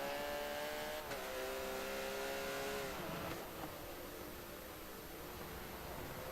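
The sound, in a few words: race cars on the final lap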